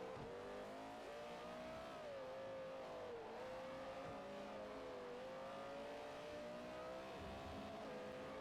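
Race car engine in Forza Motorsport 4, a loose-rear Porsche, a continuous high revving drone that rises and dips with throttle and gear changes, steady and unbroken throughout, no voices.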